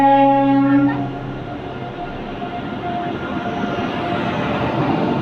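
A train at Patna Junction station sounds a loud, sustained tonal blast for about a second, then gives way to a steady rolling rumble of railway cars that continues to the end.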